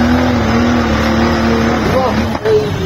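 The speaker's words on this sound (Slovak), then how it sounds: "teraz tam vrčí to krásne, benzín, 3 liter, BMW motor" A 3-liter petrol BMW engine in an off-road car growls at a steady, loud, close drone with a slight pitch dip near the end, with people talking over it.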